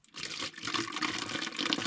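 Water pours into a container while a hiker fills up before a desert section, a brief pause then a steady gurgling, splashing stream, close but fairly quiet, with no talking.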